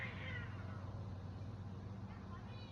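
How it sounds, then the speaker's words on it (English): Cats meow at a house, a few high drawn-out calls early on over a steady low hum, fairly faint, with a voice murmuring faintly in the background. "Cats are going crazy."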